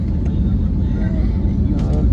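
An airplane climbs after takeoff, heard from inside the cabin as a loud, steady, low engine roar and rumble with no break.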